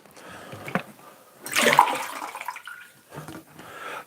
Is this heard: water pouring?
yes